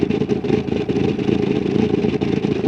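A car engine labours near stalling in BeamNG.drive, a rough low-mid rumble that sputters and wavers unevenly throughout, loud and close with no talking.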